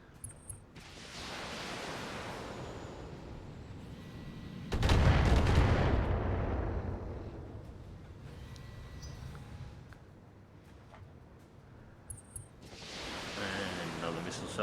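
A missile salvo fires in the BattleTech video game: a loud roaring burst of launches and impacts swells and fades over several seconds, with rumbling battle noise before and after and voices talking now and then.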